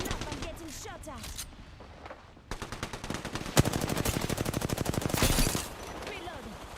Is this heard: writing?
no